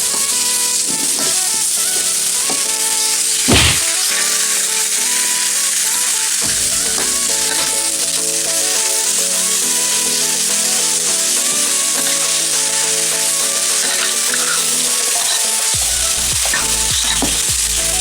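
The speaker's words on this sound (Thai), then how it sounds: "ผัดเครื่องหอมดีแล้วใส่ไก่เลยครับ" Steady, loud sizzling of chicken stir-frying with aromatics in a hot pan, with occasional scraping and clinks of stirring throughout.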